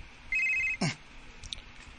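A cellphone ringing with an incoming call, a loud electronic ringtone burst followed by a short clattering sound, then faint quieter tones.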